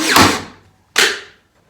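Two sharp hammer strikes driving a nail at an angle into the wood of a tall cabinet, loud and close, spaced almost a second apart, each ringing briefly before fading.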